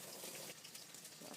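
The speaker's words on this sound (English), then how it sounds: "Let's drain our pasta." Hot water from cooked pasta gushes steadily into a strainer in a kitchen, a continuous splashing rush that stays even throughout with no speech.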